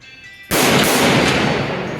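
A single sharp, loud blast from a .357 revolver bursts out of near silence and rings off in a long, dense decaying tail.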